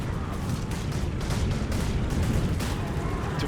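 Volleys of musket and grenade fire from grenadiers and bombardiers in the Empire: Total War strategy game, a dense, continuous crackle of overlapping shots and booms rolling on without a break.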